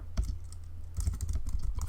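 Computer keyboard keys tapped in quick, irregular bursts, close and fairly quiet, with a short pause early on before a denser run of typing continues to the end.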